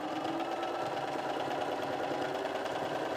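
A Bernina 380 sewing machine runs steadily through a scallop stitch, an even, rapid mechanical whirr and chatter held at constant level throughout, with no speech.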